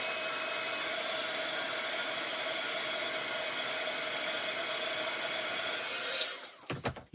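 A heat tool blows a steady, loud, continuous whoosh as it dries ink on a card, cutting off abruptly near the end with a few handling knocks.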